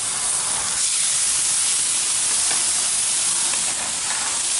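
Steaks searing on a seasoned hot pan give a loud, steady sizzling hiss that runs without a break, close up and with no talking over it.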